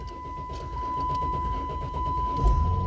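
A car suffering a P0340 camshaft position sensor fault cranks for a long, steady stretch before the engine finally catches with a louder low rumble near the end, close up and alone, with a constant high electronic whine running underneath.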